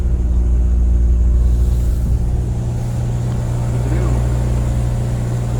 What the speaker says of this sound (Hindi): गाड़ी में इतना ज़्यादा वजन हो गया कि ये चढ़ाई भी गाड़ी नहीं चढ़ पा रही